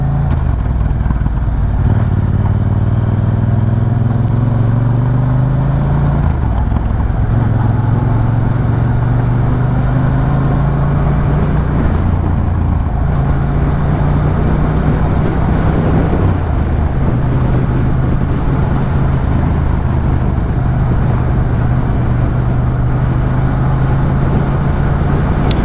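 A motorcycle engine drones loudly and close while riding, its pitch rising and falling in repeated cycles through gear changes over steady wind and road noise.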